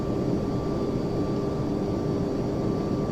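Steady, loud engine roar of a Boeing 757 airliner at takeoff power on a runway in Microsoft Flight Simulator X, a continuous broadband rumble with a faint high whine, unbroken for the whole stretch.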